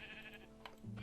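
Sheep bleating in Minecraft Java 1.16, a short, fairly quiet bleat near the end over a faint hum of game background sound.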